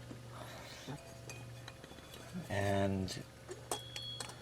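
Glass parts are taken off a touch lamp, giving a few light clinks and one sustained ringing tone in a quiet room. A brief spoken word is heard.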